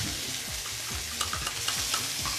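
Chicken curry sizzles in a pan with a dense, continuous crackling fry and occasional stirring scrapes, close and fairly loud, with no voices.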